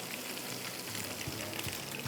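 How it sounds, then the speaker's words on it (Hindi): Water poured into a hot cooking pan for fish pulao, giving a steady broadband sizzle and hiss with faint bubbling, continuous and moderately close throughout. "इसमें मैंने थोड़ा सा पानी डाल दिया"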